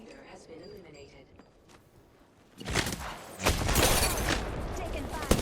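Gunfire in the Apex Legends video game erupts after a quieter stretch, a loud, dense burst of rapid shots and impacts that carries on to the end, with game sounds and talk earlier.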